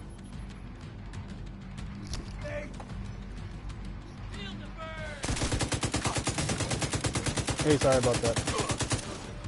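Gunfire in The Division, a long rapid burst of automatic fire that starts about halfway through and keeps going, loud and steady, with a few scattered shots and some talking before it.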